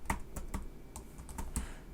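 Keys clatter on a computer keyboard in an uneven run of quick taps, close-up and fairly quiet, with no speech over them.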